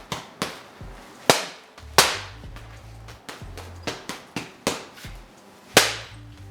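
Eight-ounce boxing gloves slam power shots into a firm bag, a dozen or so sharp, loud cracks in an uneven rhythm with short pauses between bursts, close and unaccompanied by talk.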